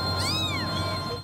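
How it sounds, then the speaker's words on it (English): A kitten crying in one drawn-out, rising then falling meow, loud and close, over a low steady hum. "this kitten, who cried the loudest and the longest"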